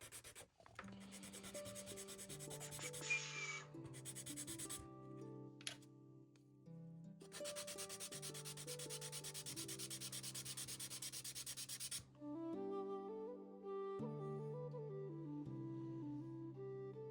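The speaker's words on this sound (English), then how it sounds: "We need to sand it here a little." Sandpaper rubs back and forth on the wooden mizzen mast of an OcCre Essex model ship, a steady close rasping in long, even bursts separated by brief pauses.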